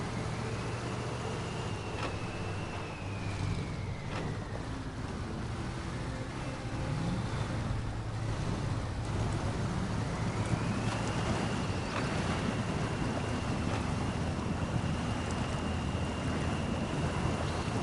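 A Tatra truck drives in SnowRunner, its engine droning steadily under wind-like rumble, with a whining tone that rises and falls as it shifts, close and continuous with no talking.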